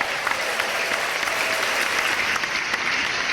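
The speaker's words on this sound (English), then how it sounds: "Yes, loud claps." Loud, dense applause from many hands, a steady continuous wash of clapping held at an even level throughout, close and full with no talk over it.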